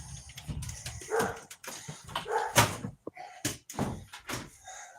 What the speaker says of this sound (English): I told you I was going to set off the dog next door